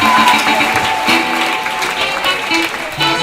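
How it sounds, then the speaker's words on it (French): A church congregation in Guadeloupe applauds and cheers for Jesus during a worship service, steady loud clapping filling the space for a few seconds. "Est-ce qu'on peut acclamer pour le Seigneur Jésus?"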